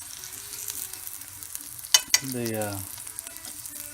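A chicken of the woods mushroom cooks in wine in a hot pan under a low, steady simmering hiss. Two sharp clicks of utensil on pan come midway, followed by a short tonal squeak or murmur.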